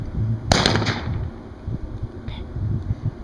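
A single sharp shotgun blast at a trap shooting competition on a Paralyzed Veterans of America circuit in Nevada, loud and close with a short echoing tail over a steady outdoor rumble.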